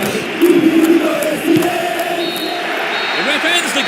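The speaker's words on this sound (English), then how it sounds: "The ref ends the game, and a huge roar from the crowd." A stadium crowd in a PES football video game, set at the 1958 World Cup in Sweden, roars at the final whistle. The broad, sustained roar swells and holds throughout, with a voice heard over it.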